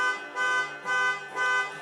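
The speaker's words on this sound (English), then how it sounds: "Sorry for the honking." Car horns honking outside, three or four drawn-out tonal blasts in an uneven rhythm, moderately loud and heard through a room with no talking over them.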